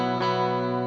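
Electric guitar played through heavy distortion with stacked delays and a touch of reverb: a sustained, buzzing chord rings loud and steady, with a soft repeat smearing in near the start.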